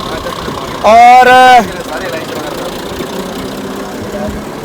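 A garbage truck's engine runs as it pulls away toward Atawa society on a busy Eid street, a low steady rumble under nearby people talking, with a brief loud steady tone near the start.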